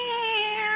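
A cat meows once in a single drawn-out, steady cry, close and clear, in a quiet room from a 1974 radio drama.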